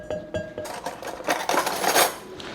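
Serrated spoon scraping seeds from the inside of a jalapeno, giving a run of close, scratchy clinks and rasps that grow denser and louder toward the end.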